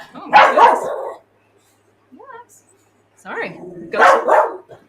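A pet dog barks in two loud bursts, a short yelp between them, in a home setting where a person's voice is also present.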